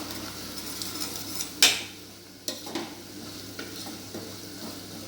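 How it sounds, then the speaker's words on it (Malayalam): Onions sautéing in a pan with chili and turmeric, a steady low sizzle broken by a loud utensil clank on the pan and a few lighter scrapes and taps of stirring. "അതിൽ ഞാൻ ഈ മുളകും മഞ്ഞളും ചേർക്കുകയാണ്. എന്നിട്ട് അതും നന്നായിട്ട് വഴറ്റണം."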